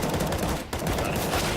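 Dense, continuous gunfire from a CS:GO pro match fills the moment, rapid overlapping shots forming a loud wash with a brief dip midway.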